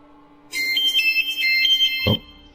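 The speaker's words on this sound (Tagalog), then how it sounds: "May tumatawag sa cellphone ninyong mama." Mother's mobile phone ringing with an incoming call, a bright electronic ringtone melody starting after a half second of quiet and playing steadily, ended by a short thump.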